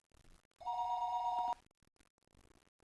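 A telephone rings in the Higurashi video game, one continuous electronic bell tone lasting about a second, loud and clear between quiet stretches.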